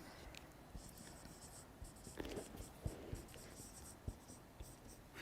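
Pens scratch and tap on paper in a quiet room at a craft gathering, a soft steady scribbling broken by small clicks, with faint murmuring in the background.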